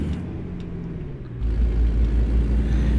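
A truck engine in American Truck Simulator rumbles at idle, then swells into a louder, deeper low drone as the rig pulls away, close and continuous, no talk.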